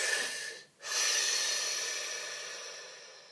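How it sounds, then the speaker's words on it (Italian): A person takes one close, deep breath: a short breathy intake, a brief pause, then a long, slow airy exhale that fades gradually, with no talking. "Facciamo un bel respiro."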